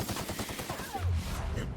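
A quick burst of gunfire from The Outer Worlds, several close, rapid shots in the first second, then a short low thud and a fading tail.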